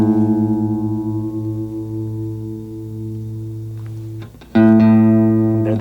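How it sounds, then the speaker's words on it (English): Fender electric guitar A string sustaining as it is retuned against a reference note, a steady pitched tone that breaks off briefly and then rings out again louder, with no talking. "I'm going to need to retune my A string to get it to match what we had here."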